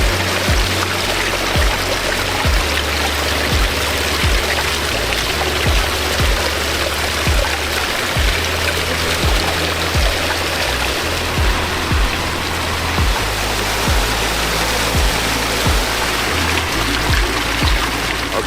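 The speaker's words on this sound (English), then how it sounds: "2 pondless waterfalls back here." Steady rushing and splashing of water from pondless waterfalls in a backyard water feature, continuous and fairly loud throughout, with faint low thumps in the background.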